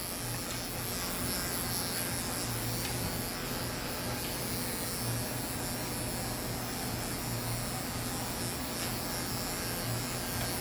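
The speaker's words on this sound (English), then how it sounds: "I'm just shaving his wee wee, that's all I'm doing" Electric clippers shaving a goldendoodle or aussiedoodle dog, a steady close buzzing hum running continuously without a break.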